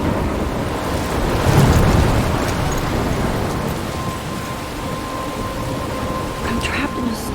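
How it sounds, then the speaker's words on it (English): Heavy rain and a rumbling thunderstorm roar steadily in the Life is Strange video game, a dense continuous wash of noise with a low thunder swell early on. "I'm trapped in a storm?"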